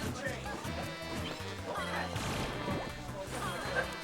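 Heavy hits and crashing impacts from Super Smash Bros. Grand Finals play, Peach and ROB against Palutena, land in quick succession with whooshes over a busy game mix, under low commentary.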